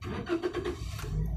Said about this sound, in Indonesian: Nah, lalu kita hidupkan mesin.